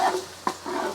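Garlic and peppers hit hot avocado oil in a pan while cooking salt and pepper wings, giving a soft sizzle with a brief stirring clatter, close and steady.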